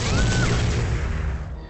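A personal ion cannon fires in the video game Renegade, one heavy blast with a whooshing crackle that decays over a second or so, loud and close, with no talk.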